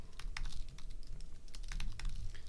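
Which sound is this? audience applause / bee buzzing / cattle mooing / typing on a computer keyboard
typing on a computer keyboard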